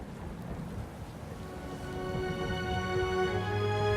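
A stormy scene in the fantasy game Pillars of Eternity II: Deadfire, with steady rain and rumbling thunder that grows louder midway as a low, droning tone rises underneath, with no speech.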